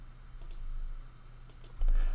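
Mouse clicks during a Dominion online card game: a few quick, light taps in two short clusters over a low, steady background hum, close and fairly quiet.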